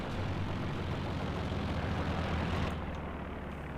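Planes fly overhead in the World War II strategy game Company of Heroes 2, a broad continuous engine roar that fades slightly near the end.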